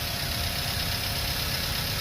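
A 2009 Toyota Avanza G with a manual gearbox and only 6,400 km on it sits idling, its engine giving a steady, even mid-low hum with a faint knocking texture, close by and unbroken for two seconds.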